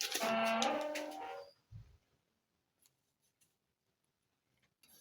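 Scissors snip through paper or fabric while a bustier pattern's bust dart is cut open, a loud rasping cut up front followed by a few faint, sparse clicks.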